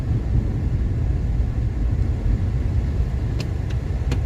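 Evening road traffic streams steadily past as a continuous low rumble of car engines and tires, close and fairly loud, with a few faint clicks near the end and no talking.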